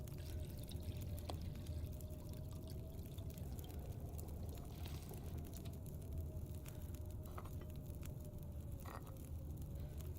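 Water pours steadily from a vessel for tea inside a survival video game, a soft continuous trickle that runs for about ten seconds, quiet and unbroken, with no voices over it.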